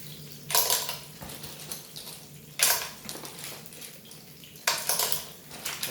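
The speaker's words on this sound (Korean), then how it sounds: "이렇게 기름이 바글바글 끓기 시작을 하면은 좀 기다렸다가 먼저 조개부터 넣어줍니다" Clams dropped into bubbling hot oil in a pan while cooking spicy tomato pasta, giving three loud bursts of sizzling and clattering shells with quieter frying crackle in between.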